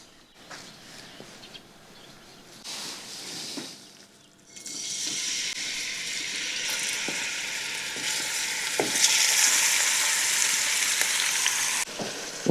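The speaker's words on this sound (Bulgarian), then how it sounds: "Оставям месото да ми се запържва." Chopped meat frying in hot fat in a pan, a steady close sizzle that swells loud after a few quiet seconds and crackles on without pause, with faint stirring knocks.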